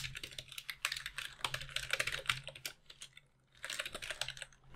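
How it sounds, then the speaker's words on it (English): Fast typing clatters on a computer keyboard in bursts of close, crisp key clicks, with a brief pause before a final flurry. "If I can type it properly."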